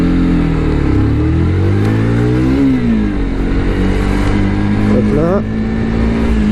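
A four-stroke motorcycle, a first bike still being run in, revs and accelerates while riding, its engine pitch climbing and falling through the gears, loud and continuous, with a voice speaking briefly over it.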